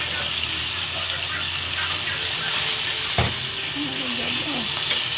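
Vegetable soup ingredients (sahog) for sinabawang gulay with fish sizzling in a pan, a continuous hissing fry with a single clatter of stirring partway through.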